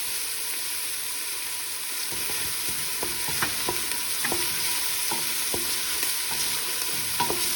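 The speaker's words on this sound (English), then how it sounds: "She's going to add the vegetable oil and some olive oil." Vegetable oil and olive oil hiss steadily in a pan with diced onions, a continuous broadband sizzle joined from midway by intermittent scraping stirs and light clinks, close and fairly loud throughout.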